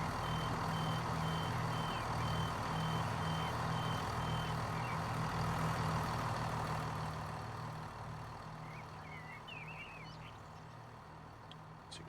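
Train door warning beeps from a Chiltern Mainline service in Train Sim Classic, a steady run of regular beeps over a constant engine hum that eases down toward the end.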